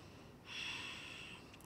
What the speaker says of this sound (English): Slow breaths in and slow breaths out.